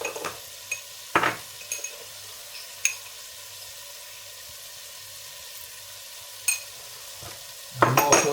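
Utensil stirring seasoned tomato soup base with salt and pepper as it fries in a pan, a steady low sizzle broken by a few sharp scrapes and clinks of the spoon against the pan, loudest near the end.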